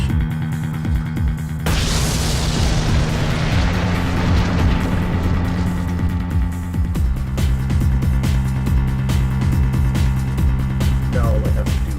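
Bomb blast in Ace Attorney Dual Destinies: a sudden loud burst of noise erupts over a low droning tone, then decays into a rumbling roar that settles back into a steady hum with crackling clicks.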